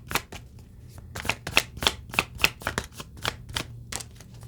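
A deck of tarot cards is shuffled by hand, a quick run of crisp riffling slaps and flicks in an irregular rhythm, close and clear in a quiet room.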